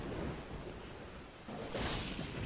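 Thunderstorm in the video game Dawn of Man: rolling thunder and steady rain, with a brief dip in the middle and then a louder, brighter swell of rain and wind.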